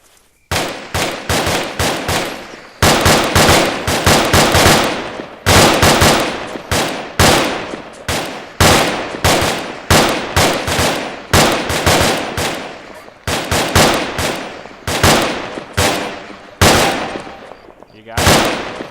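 A fire team firing rifles in rapid bursts of repeated loud, close shots with short pauses between volleys, continuing for about twenty seconds.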